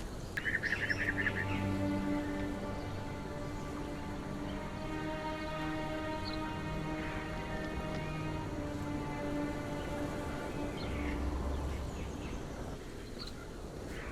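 Jungle birds in Conan Exiles call in chirpy, repeated trills and tweets over a steady wash of rain and ambient hiss, moderately distant and sustained throughout.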